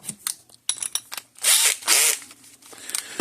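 Power drill with a screw bit backing screws out of a Zareba 200 Mile electric fence charger during disassembly, giving two loud whirring bursts separated by a brief pause, with small clicks and handling noises before and after.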